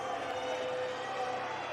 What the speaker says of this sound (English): This crowd is fired up here.